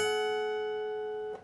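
A guitar note from a solo rings out clear and sustained, slowly fading, until a single quick pick on the high E string cuts in near the end, with no talking.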